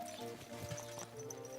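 Horse hooves clip-clop in Kingdom Come: Deliverance 2, a soft, steady walking rhythm at moderate distance under ambient game sound.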